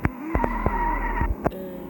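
Arcade-style car in the mobile game Extreme Car Driving, its engine droning steadily while tires squeal and skid in a few sharp bursts, with several short thuds between them, close and fairly loud.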